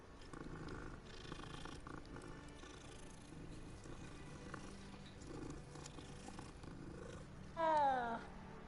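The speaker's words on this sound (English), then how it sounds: "It's a cat." A cat purrs in the video game Hogwarts Legacy, a soft continuous rumble under background game ambience, with a short louder meow near the end.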